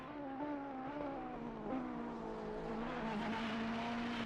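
Ferrari race car in a sim racing league event at Zolder, its engine holding a steady, loud, continuous whine with small pitch shifts through gear changes, tire noise underneath, and no voices.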